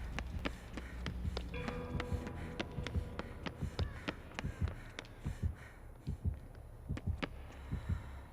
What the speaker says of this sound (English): I got a heartbeat now